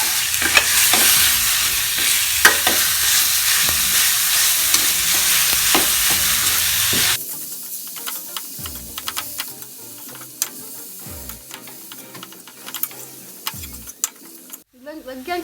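Minced chicken frying and stirred in a pan, a loud broadband sizzle for the first half with repeated scraping strokes, then quieter sizzling with clicks and utensil scrapes continuing to the end.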